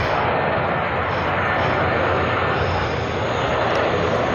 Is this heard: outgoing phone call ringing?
no